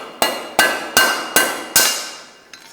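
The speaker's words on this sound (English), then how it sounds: "Again, you just tap it in place, listening for the sound." Five evenly spaced sharp metallic taps ring out close by as the TB-1929A headset cup removal tool is driven into a bicycle head tube cup, each strike ringing briefly, followed by a softer final tap.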